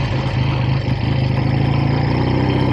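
A 1965 Triumph T100 SR motorcycle engine runs steadily nearby, a loud, even, throbbing drone with a dense low rumble and no break.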